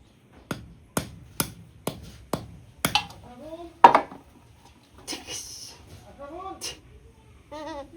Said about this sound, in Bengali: মাছ কাটি